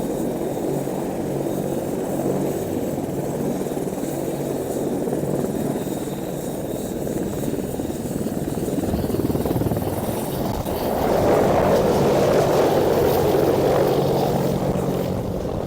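An Apache helicopter takes off with a continuous rotor and engine roar that holds steady and then swells louder and closer near the end.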